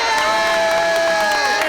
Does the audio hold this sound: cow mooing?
no